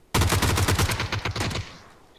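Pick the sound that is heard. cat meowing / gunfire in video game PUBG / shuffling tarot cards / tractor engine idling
gunfire in video game PUBG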